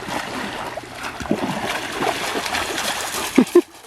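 A dog swims in water, splashing and paddling up close in uneven bursts, with a sharper splash near the end.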